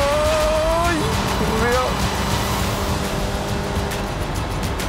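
A rally car brakes hard on a stage, its engine note dropping sharply in pitch as it slows, loud and close inside the cabin while a voice talks over it.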